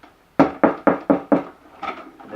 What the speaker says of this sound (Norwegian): Han banket på døra til